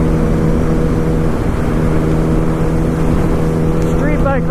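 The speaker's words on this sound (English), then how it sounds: "Out here riding the 2008 Yamaha R1 Raven" A 2008 Yamaha R1 Raven sport bike drones steadily at speed on Idaho pavement, its engine tone wrapped in continuous loud wind roar, with a brief rising rev near the end.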